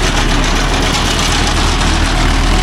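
A Mahindra Yuvo Tech Plus 585 DI 4WD tractor engine runs steadily nearby, a loud, continuous low diesel rumble with an even idle-like throb and no talking.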